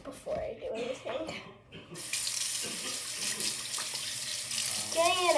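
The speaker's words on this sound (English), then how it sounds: "And then I can wash my hands before I do anything" A bathroom tap is turned on and water gushes steadily into the sink for hand washing, loud and continuous after a stretch of talking at the start.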